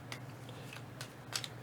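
Game cards from the board game Rising Sun being shuffled on a tabletop, with a few short, crisp riffling bursts spread over a steady low background hum, fairly faint and with no talking.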